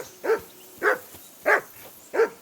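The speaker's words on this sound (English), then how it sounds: "that barking's driving me nuts" A dog barks in the medieval game Kingdom Come: Deliverance II, four evenly spaced single barks at moderate distance, alone with no talking.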